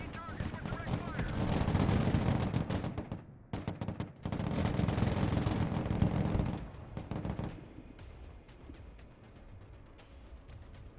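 Gunfire from units engaging targets with direct fire in a modern real-time strategy game, loud sustained bursts of shots and rumbling impacts in two long waves, easing into quieter scattered fire near the end.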